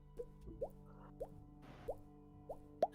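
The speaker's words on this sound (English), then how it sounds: "You hear the occasional drip and drop of water." Water drips occasionally in a quiet space. About six small, sharp drops land at uneven intervals, faint and isolated against a low, hushed background.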